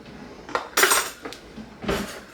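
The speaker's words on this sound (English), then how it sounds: "Now we're going to add the rest of this sour cream" Metal utensils clatter and scrape against a pan while sour cream goes in for a freezer-meal chicken and potato pasta dish, in a few sharp, close bursts with no talking.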